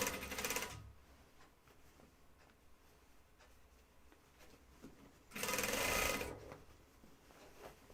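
An industrial sewing machine stitches a seam on a flight suit in two short loud bursts, one at the start and another near the end, with a quiet gap of low workshop noise between them.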